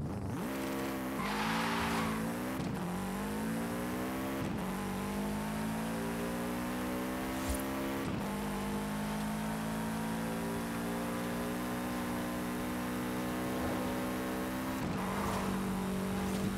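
A drift car in Forza Horizon 5 revs and holds its engine note, with repeated gear shifts and dips and a steady tyre squeal as it slides.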